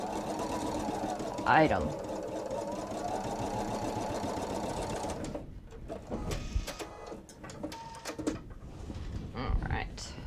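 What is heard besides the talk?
sewing machine stitching quilted tote fabric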